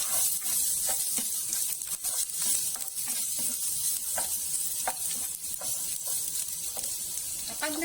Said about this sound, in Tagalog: mainit na yung ating mantika. Iuna nating igisa po ay yung luya.